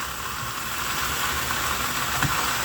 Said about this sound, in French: Je fais maintenant revenir des tranches de jambon à la poêle.